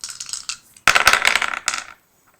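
Dice rolled during a Power Rangers: Heroes of the Grid board game, a brief rattle then a louder clatter of several dice tumbling and settling on a hard surface, with no talk.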